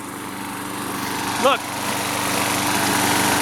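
A Craftsman 6.75hp lawn mower runs steadily on a suburban lawn, a close, continuous engine drone, with a brief spoken word heard over it.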